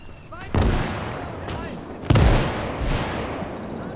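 Mortar rounds firing in the real-time strategy game Gates of Hell, two loud booming impacts with long ringing tails over a low rumble, plus a fainter third report.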